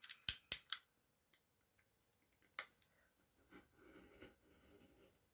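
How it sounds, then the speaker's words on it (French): Cutter knife slicing paper between two marked points on a manga album page: a few sharp close clicks and quick scratchy cuts, then quieter scraping strokes after a pause, with no voices. "Alors, on commence par couper ici entre les deux points."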